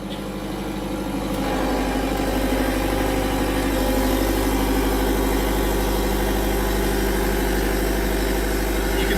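A generator set with a Mecc Alte alternator starts up as load rises, a loud, steady engine drone that swells in the first seconds and then holds a constant, vibrating hum.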